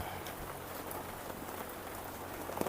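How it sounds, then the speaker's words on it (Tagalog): Steady rain pours down outdoors in the Philippines, a dense, even hiss of drops hitting surfaces that continues without a break at a moderate, close level. "Maulan, grabe."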